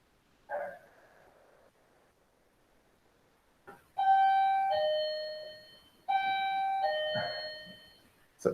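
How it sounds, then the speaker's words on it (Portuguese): A home doorbell rings twice with a bright two-note electronic chime, ringing and sustaining before fading; a short thump comes earlier in an otherwise quiet room. "Essa campainha minha é assombrada, ela toca sozinha."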